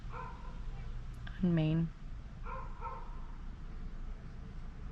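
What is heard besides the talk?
dog barking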